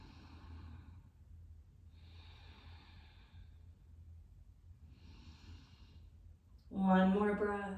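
Slow, deep breaths during a chair yoga stretch, drawn in and let out in soft, airy waves with quiet pauses between them, before a voice starts speaking at the end.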